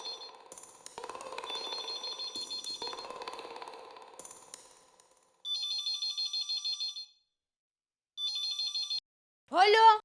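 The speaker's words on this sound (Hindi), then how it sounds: "दया, कब से फोन लगा रहा हूँ।" A telephone rings in an indoor home setting, with two separate bursts of bright trilling rings separated by silence. Voices and other sounds are heard earlier in the clip.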